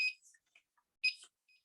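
A kitchen timer chirps a few short, high electronic beeps as it is set while baking baklava, in two brief clusters with quiet between them.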